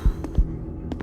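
Heavy, low heartbeat thumps in the horror game Dead Man's Journey, in a steady throbbing rhythm over a droning hum, loud and close with no talk.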